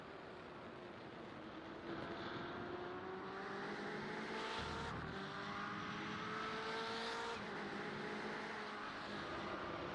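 Engine drone from BMW race cars in a sim racing game at Watkins Glen, a constant layered whine with rising and falling pitch as cars pass and shift.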